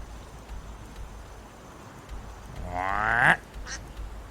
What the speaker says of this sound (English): Quack.